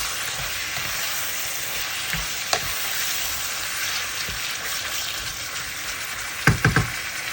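Chicken sizzles and fries steadily in a pan for chicken adobo, a loud continuous crackle with a few sharp clinks of stirring near the end.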